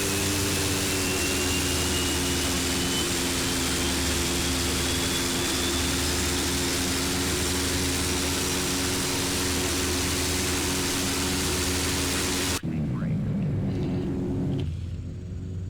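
Twin turboprop engines of a Carenado SF 340 in the Prepar3D v4 flight simulator run up with a loud, steady droning rumble and whine, then cut off abruptly near the end, leaving near silence.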